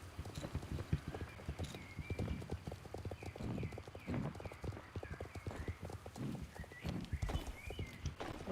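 Horse hooves clip-clop in a steady, even rhythm as a horse is ridden in the video game Star Stable Online, quiet and continuous throughout.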